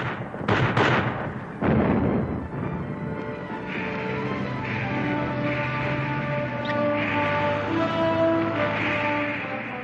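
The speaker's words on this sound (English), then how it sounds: "launching the heaviest artillery barrage of the war, Montgomery struck at Alamein" Heavy artillery barrage at the Battle of El Alamein in 1942: a few sharp, loud booms in the first two seconds, then a sustained rumbling roar with a steady low drone and tonal layers running underneath.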